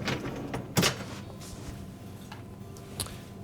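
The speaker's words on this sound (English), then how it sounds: "We'll pull those side rails out." Side rails of a Kenmore dishwasher upper rack being pulled out, giving soft sliding rattles and a couple of light plastic clicks and knocks, close by.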